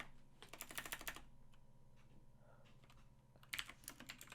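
Quick bursts of computer keyboard typing, rapid clustered keystrokes near and clear, pausing in the middle before another short flurry, with no voices.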